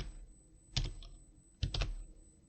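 Typing on a French computer keyboard, two faint short bursts of key clicks separated by a pause, with quiet room background.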